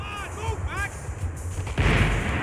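Long-range gunfire echoes in Max Payne 3, with distant booming shots under a layer of game sound, then a louder, denser burst of fire near the end.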